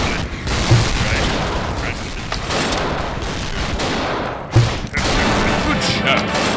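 Heavy gunfire in the World War II shooter Dino D-Day, dense continuous volleys of shots with sharper bursts standing out, loud and close throughout.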